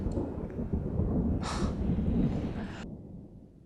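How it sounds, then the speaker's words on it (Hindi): Low thunder rolls from storm clouds in a deep, continuous rumble lasting a few seconds, swelling and then slowly fading, with no voices over it. "मुझे तो इन बादलों की गरज से डर लगता है।"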